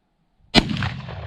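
A Winchester 1894 SRC rifle chambered in 38-55 fires once outdoors, a single sharp loud crack that rolls off into a rumbling echo.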